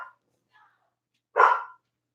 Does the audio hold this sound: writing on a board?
no